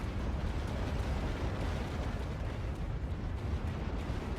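Dense, continuous rumble of explosions and gunfire from a real-time strategy game battle in which Terminators destroy machine gun nests, heavy low-end booms layered over a steady roar with no clear gaps.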